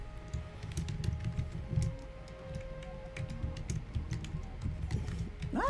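Light, steady tapping on a computer keyboard, close but low in level, with soft clicks over a faint background hum and a brief tonal blip near the end.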